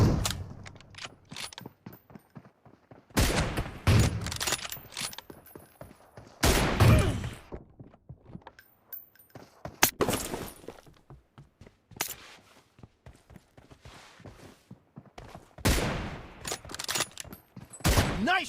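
Gunfire during a PUBG Mobile squad match: repeated bursts of loud shots and rapid automatic fire, separated by short quiet gaps and mechanical clicks.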